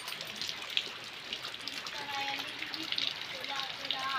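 Steady rain patters with scattered drops under a constant hiss, while a voice talks over the downpour.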